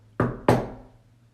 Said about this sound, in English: Some people get the knock day in, day out